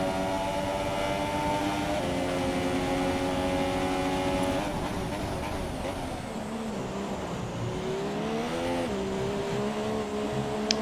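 Formula One race cars roar around the Abu Dhabi circuit in the racing game F1 2017, a sustained high engine whine shifting pitch through gear changes and braking, loud and constant with no voices.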